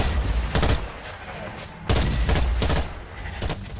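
Gunfire from a twin shooter weapon in a video game: loud bursts of shots in several clusters across the clip, sharp and close, with faint game noise between them.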